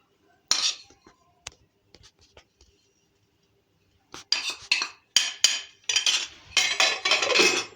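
Fennel seeds and cardamom are dropped into a dish of rose petals and sugar while making gulkand at home. A few scattered clicks come first, then a run of crisp rattling pours and clinks, close and fairly loud.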